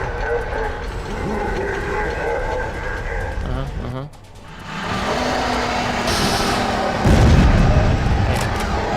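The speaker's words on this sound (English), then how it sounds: "Oh hey, Panzerfaust." In the video game Bloodrayne, a Panzerfaust rocket fires and a heavy explosion booms a few seconds later. Rumbling battle noise surrounds both, and a player speaks intermittently over the game sound.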